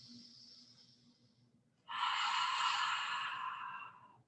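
A soft breath during breathwork, followed by a louder, longer breathy exhale close to the microphone, trailing off gradually.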